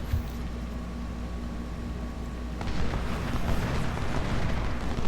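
Artillery fire in the Civil War strategy game Ultimate General, Bull Run battle: a continuous distant rumble of cannon booms that thickens and grows louder partway through, with no talk.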